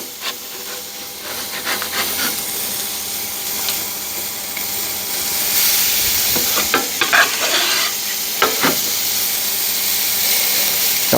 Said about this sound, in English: Go ahead and get these onto my grill grates.